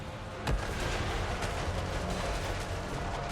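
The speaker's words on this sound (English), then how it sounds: "Mortar is firing the side." Mortars fire in a Total War Warhammer battle, one sharp boom standing out over a dense, rumbling din of distant blasts and combat noise, with no talk.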